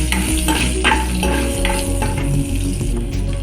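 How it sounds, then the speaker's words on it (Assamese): Onion frying in mustard oil in a pan for a fish roe and ridge gourd fry, a steady close sizzle with stirring scrapes throughout, while a music track plays underneath. "পিঁয়াজখিনি ভালদৰে ভাজি নলওঁ"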